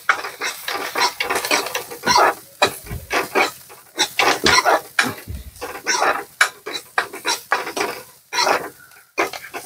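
Chopped onions and green chillies are stirred in a pan, giving irregular scraping and clinking of a utensil against the pan with a soft sizzle underneath, in short uneven bursts.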